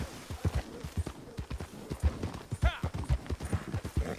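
Horse hooves clip-clop in a steady trotting rhythm inside a video game, close and prominent, with a short whinny-like sound partway through and no speech.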